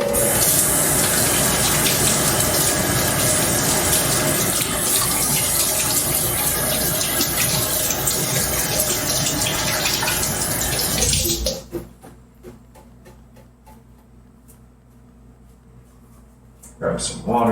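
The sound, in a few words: hands being washed under a running water tap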